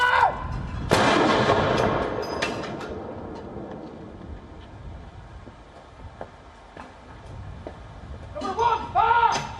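Heavy artillery booms from a 96-gun salute at the Tower of London in memory of Queen Elizabeth II. A loud blast opens, reverberating rumble and distant echoes follow, and a voice calls out.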